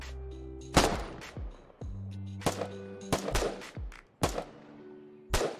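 Gunshots in a video game: about six loud, sharp blasts at uneven intervals, each with a short echoing tail, over low tonal game hum, no talking.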